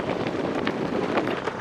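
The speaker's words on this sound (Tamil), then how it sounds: "என்ன காத்தடிக்குது, காத்துங்க சத்தத்துக்கு இருக்கும்." Strong coastal wind rushes continuously past the microphone on a small island, a dense, even roar with faint gusty swells and no clear voices.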